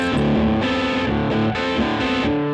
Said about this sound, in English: we're going to try this Marshall amp with some heavier tones